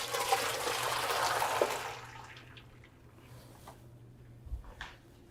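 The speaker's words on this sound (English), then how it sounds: "We're going to drain all those good things out of there and use the broth." Broth pours and drains from a pan of aromatics, a splashing rush of liquid for about two seconds that fades to soft trickles and a couple of small knocks.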